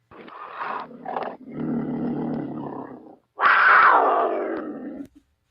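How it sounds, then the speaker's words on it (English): A loud, close cougar roar sound effect with rough growling and snarling bursts, ending in a long drawn-out roar that fades away. "Let's go ahead and give him another Cougar roar."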